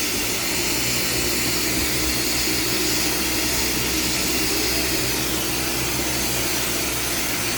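A glassblowing torch roars steadily, a loud, broad rushing hiss like a jet of gas and air burning close by, holding an even level throughout with no breaks.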